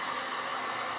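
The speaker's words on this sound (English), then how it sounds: "So the blow dryer on warm" A hair blow dryer on its warm, high setting, used to speed the drying of a resin pour on a silver tray, gives a steady, close, loud broadband airy rush that runs unbroken with no talking.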